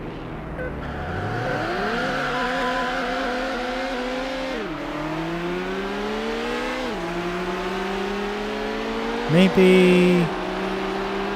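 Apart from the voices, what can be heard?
Ferrari 360 Modena racing, video game Need for Speed Hot Pursuit 2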